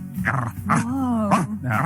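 A human voice imitates a scary dog bark, giving several short, loud, growly woofs close up in quick succession.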